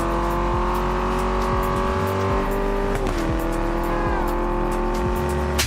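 Electric Porsche Taycan in the racing game TDU Solar Crown, a steady high synthetic whine holding loud and continuous, bending slightly in pitch midway, with faint tire and road noise underneath.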